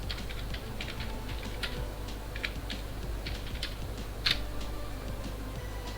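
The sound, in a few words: typing a prompt on a computer keyboard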